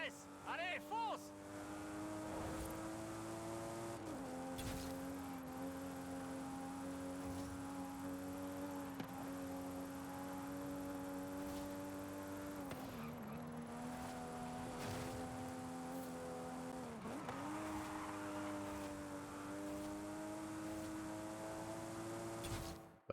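A car driving fast through a speed zone in Forza Horizon 5, its engine holding a steady high drone with brief dips at gear changes, loud and continuous for over twenty seconds, with a voice talking over it.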